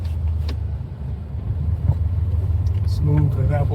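Classic Mercury with a long-throw manual shifter, heard from inside with a low engine rumble that drops briefly for a gear change and then builds again, a voice speaking over it at the end.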